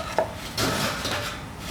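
Hard oven-baked friselle are knocked and handled, giving a sharp tap followed by dry, hollow rubbing and clattering nearby.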